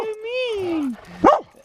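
Puppy vocalizing outdoors on a cliff edge, a drawn-out whiny howl sliding downward followed by a single short sharp bark, close and fairly loud.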